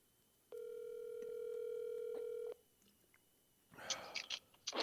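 A phone on speakerphone during a call back puts out a steady electronic dial tone for about two seconds, clear and close, then stops and leaves rustling and mouth noises.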